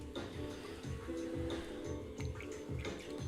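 Water dripping and squishing against wet clay on a spinning pottery wheel: a steady run of soft, wet slaps and drips repeating every half second or so, close and fairly quiet over a low motor hum.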